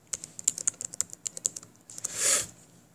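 Rapid clicks of a computer keyboard as someone types code, a close, uneven patter of individual keystrokes ending in a longer scraping sweep, with no voices.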